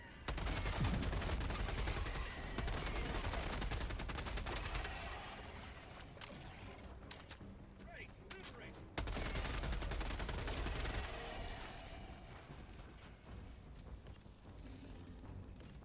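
A video game orbital strike erupts amid dense automatic gunfire: a sustained roar of rapid shots and blasts, with a fresh heavy impact midway before the din gradually thins.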